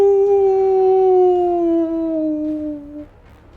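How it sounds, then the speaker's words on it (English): A wolf in a fantasy tabletop-game scene lets out a long, loud howl mid-transformation, a single sustained tone sliding slowly downward over about three seconds before fading out, heard alone without talk. "And it lets out a howl."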